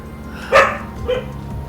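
A husky dog gives a sharp bark, followed by a softer second yip, close and loud over a quiet background.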